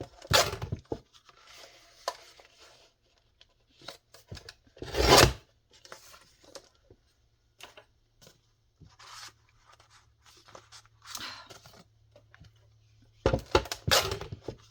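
Paper card being trimmed for a junk journal, heard as scattered rasping cuts and scissor snips with quiet pauses between, a few louder bursts near the start, middle and end, and no talking.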